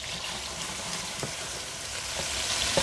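Smash burgers sizzling in a pan on a carnivore OMAD cook, a steady broadband frying hiss with small pops and spatters, close and continuous, growing slightly louder toward the end.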